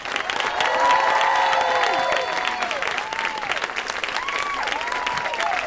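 A studio audience applauds and cheers as a guest arrives for a talk-show interview, with loud sustained clapping and a few whoops that continue throughout.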